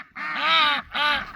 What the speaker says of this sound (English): The old ducks are dirty.